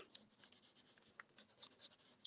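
Pencil lead scribbled back and forth across the back of a sheet of paper, a soft raspy scratching in uneven bursts that is close and quiet, with no voices.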